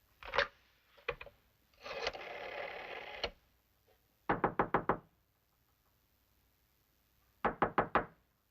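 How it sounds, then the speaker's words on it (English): Knuckles rap on an office door in quick sets of three to five sharp knocks, separated by quiet pauses, with a brief rustle in between. "I knocked"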